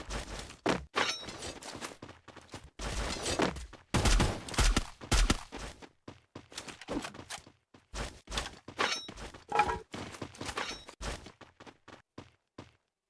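Gunfire in the video game Valorant, rapid bursts and single sharp shots scattered irregularly over several seconds, fairly close with clicks and brief pauses between volleys.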